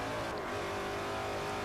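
A race car in Forza 4 at Suzuka accelerates hard uphill, its engine a loud, sustained high-pitched roar filling the short stretch without voices.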